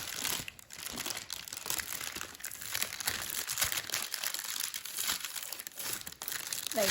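Paper crinkles and rustles steadily as a sheet is folded down while pre-creasing an origami Ryujin 3.5 dragon by Satoshi Kamiya, a close, continuous dry crackle with small creasing snaps throughout.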